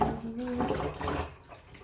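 Running water splashes into a kitchen sink while utensils are washed, a steady close wash of flow across the whole stretch, with a faint hum of singing or voice beneath it.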